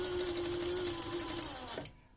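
A domestic sewing machine stitches backwards through fabric while a roll-up pen and brush case is being made, running as a close, steady mechanical whir that stops abruptly near the end.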